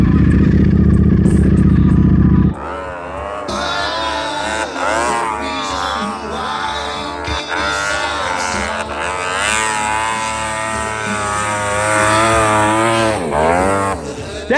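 A 2024 Ducati V4 snow bike engine revs hard in third gear, a loud, continuous roar with rising and falling pitch sweeps held for over ten seconds after a brief lower rumble at the start.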